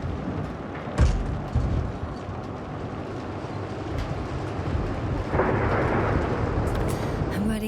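Thunderstorm in the video game The Invincible, a dense rumbling roar of rain and wind with a sharp crack near the start and a swelling gust midway, heavy and continuous.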